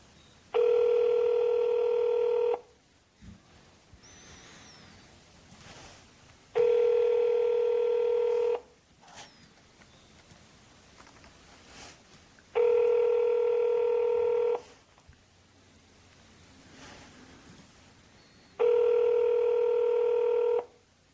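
A Google Voice call plays four loud, identical steady tones, each about two seconds long and evenly spaced, with quieter line hiss and faint dialing in the gaps between them.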